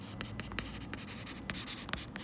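Pen strokes scratch across paper in short, repeated bursts, close and fairly quiet, as someone writes out an accounting example.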